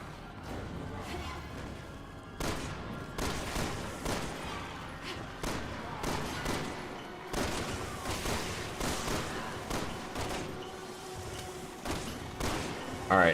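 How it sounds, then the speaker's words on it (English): Gunfire from Resident Evil 6 in several separate bursts of sharp shots and thuds, spread over about thirteen seconds at moderate level, with quieter game ambience between volleys. "now we shoot with a little bit more precision and aiming time"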